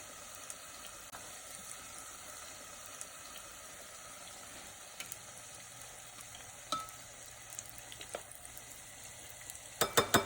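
Battered tempura vegetables, such as broccoli, fry in hot oil with a steady close sizzle and hiss, and a few utensil clinks and taps come near the end.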